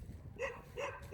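A dog barks twice, about half a second apart, close by and moderately loud, with no one talking over it.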